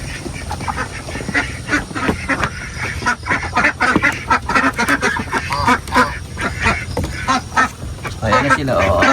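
Female egg-laying ducks on a small farm quack loudly and continuously in a dense, overlapping chorus, with someone talking intermittently nearby.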